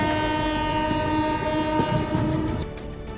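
A train at an Indian railway station near Udaipur, bound for Chittorgarh, sounding a loud sustained horn with steady harmonic tones over rumbling wagons, fading slightly near the end.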